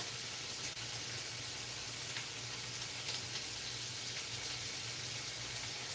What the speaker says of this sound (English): Now I like to cook my bacon high and constantly flip it.